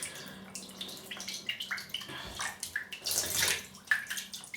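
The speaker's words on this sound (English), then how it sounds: "Dip the brush in." A shaving brush is dipped and swished in water before lathering for a face shave, making close splashing, dripping and gurgling sounds that rise into a louder slosh near the end.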